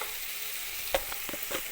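Onions roasting in a pan for onion tomato curry give a faint, steady sizzle, broken by a few soft clinks and scrapes as they are stirred.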